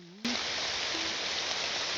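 Steady rain pours in the Morrowind game world, a dense, even hiss that starts abruptly and continues unbroken at a moderate level.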